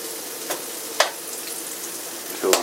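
Bacon fries in a pan with a steady, fairly loud crackling sizzle, broken by a few sharp pops and a clatter of utensils near the end.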